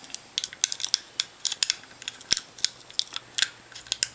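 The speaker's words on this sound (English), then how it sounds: "I'm going to use the tweezers to start separating away the tape from the walls of the barrel" Tweezers pick and peel tape away from the inside walls of a Lamy Vista pen barrel, making a quick, uneven run of small sharp clicks and scratchy ticks up close, with no talking.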